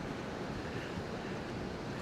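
Ocean surf rolls in at the beach in Rockaway Park, Queens, New York City, a steady broad wash of waves mixed with wind noise and no voices.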